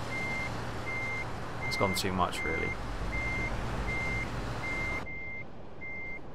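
A truck in Euro Truck Simulator 2 backs up with steady, evenly spaced reversing beeps and a low engine rumble, while someone speaks briefly over them before the engine noise cuts out and the beeps carry on.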